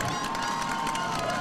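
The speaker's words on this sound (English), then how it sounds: "the crowd's kind of getting in it now a little bit" A high school football crowd at Muldrow vs. Berryhill roars steadily in a broad, continuous wash of cheering, with no clear breaks across the stretch.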